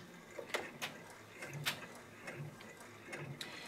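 An embroidery machine stitches a design onto fleece fabric, giving a steady run of quick mechanical clicks and needle thumps with a soft motor hum underneath, moderately close and with no one talking.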